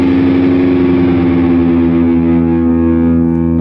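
A distorted electric guitar slowly bends its low E string upward into the opening of a song, one loud, sustained, growling note that wavers in pitch as it rings out.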